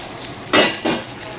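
Food frying in oil in a pan in a home kitchen, being lightly fried and then double-fried until crunchy, heard as two short bursts of sizzling hiss under a quiet background.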